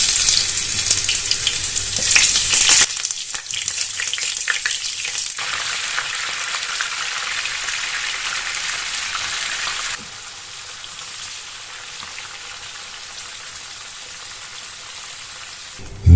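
Peppers sautéing in oil in a frying pan for a traditional Greek oven-baked briam: a steady, close hiss and crackle that eases to a quieter, even sizzle partway through, with no voices.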